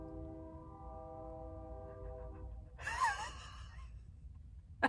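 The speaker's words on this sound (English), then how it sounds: "That was that train conductor going, fuck it! Let me just lay on this horn as long as physically possible." A train horn blown long by the conductor, a steady multi-tone blare sustained for several seconds at a distance before cutting off, followed by a short burst of breathy sound.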